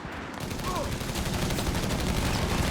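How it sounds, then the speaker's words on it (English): In the Company of Heroes 3 video game, a heavy machine gun fires in rapid, sustained bursts that blend into a dense rattling roar, with distant battle noise beneath and no talk. "Setting up the machine gun covering this arc."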